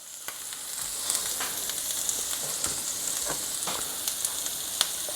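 Sea scallops fry in a hot pan with a steady bright sizzle, dotted with frequent small pops and crackles throughout, close and loud with no talking.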